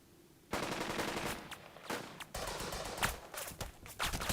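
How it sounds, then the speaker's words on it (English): Sustained small-arms and machine-gun fire in Burden of Command, a WWII tactical video game, rattling continuously for several seconds with sharper individual cracks and bursts mixed in, fairly loud, with no voices. "Let's see if we can open fire on these guys"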